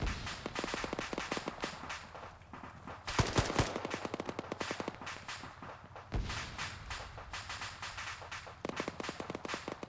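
Gunfire in a military video game set in a Sudan campaign: sharp bursts of automatic fire and single shots crackle in uneven clusters, some close and loud, others quieter, with no talk.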